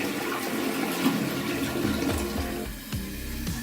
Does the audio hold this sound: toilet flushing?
yes